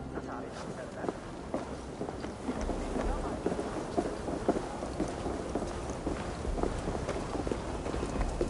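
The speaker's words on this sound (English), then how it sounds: "What's all the thunder about?" Thunder rumbles low and steady under falling rain in a stormy scene from the video game Assassin's Creed Valhalla, with scattered sharper crackles and drops throughout and a voice occasionally murmuring in the mix.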